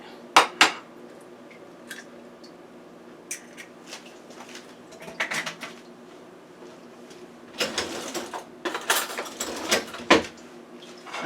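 A spoon clinks and scrapes around a bowl while an egg is mixed into sweet potato pie filling, with scattered taps at first and then a busier run of stirring clatter near the end, close up.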